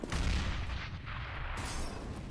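Stock pistols fire in a Counter-Strike: Global Offensive match on the Overpass map, producing a dense, continuous barrage of overlapping shots and booms that stays loud throughout.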